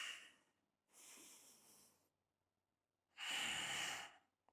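Forceful breaths during a triceps exercise, three long airy exhales close to the mic, separated by brief silences, the last one loudest.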